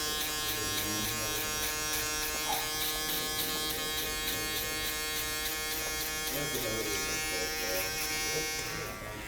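Electric hair clipper buzzing steadily and close during a contour haircut in a barber shop, a continuous hum under occasional low talk.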